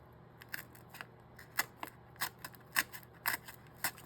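Scissors snip through paper netting in short, crisp cuts, roughly a dozen irregular snips spaced across a few seconds, close and fairly quiet with no talking.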